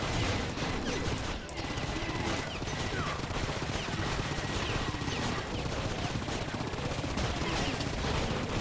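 A chain gun fires nonstop in the video game Painkiller Hell & Damnation, a dense, unbroken rattle of rapid shots with crashes mixed in throughout.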